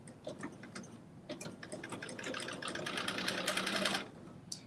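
A sewing machine set to a 2.5 regular stitch runs a steady, continuous whirring stitch line for about four seconds over a seam on dressy joggers, close and clear, with no talking.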